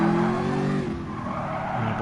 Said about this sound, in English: he desperately piles on the brakes to stop himself from colliding into the barrier